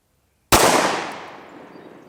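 A Glock 23 fires a single .357 SIG round into ballistic gel, one sharp, loud blast after silence, followed by a long ringing decay of echo.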